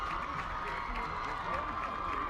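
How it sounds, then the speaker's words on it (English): Husky crowd at a football game cheering in a broad, distant roar, with a commentator talking over it. "that seems to bring this Husky crowd alive"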